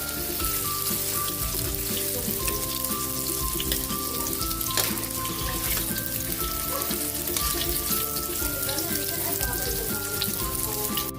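Tokwa (firm tofu) frying in hot oil, giving a steady, dense sizzle and crackle that runs unbroken for the whole stretch, with faint sustained tones in the background.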